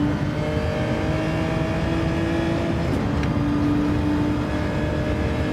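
A race car in a racing video game drones steadily under braking, its engine tone holding, then stepping to a new pitch with a gear change, loud and continuous throughout.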